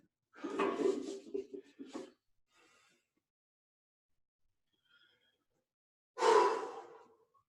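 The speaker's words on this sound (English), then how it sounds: "Wait till your breathing calms." A person breathes heavily after a workout set: a long, rough run of panting breaths up close, a stretch of quiet, then one more loud, forceful exhale near the end.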